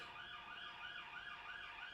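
An ambulance siren wails outside in a steady rising and falling cycle. It sounds muffled and distant, and it keeps going with no speech over it.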